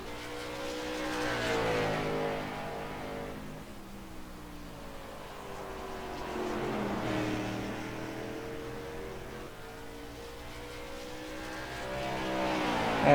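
A late model race car lapping in a racing sim, its engine drone rising and falling steadily through the gears as it circles the track, heard alone without talk.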